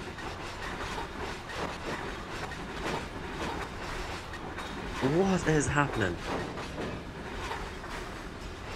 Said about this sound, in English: One thing that I can confirm is that the train has sped up